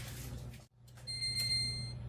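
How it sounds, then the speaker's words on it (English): A kitchen timer goes off while peanut butter Christmas candy bakes in the oven. A thin, steady electronic beeping tone starts partway through, faint against the low hum of the room. "Timer's going off"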